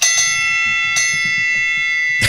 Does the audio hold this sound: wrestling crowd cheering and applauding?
no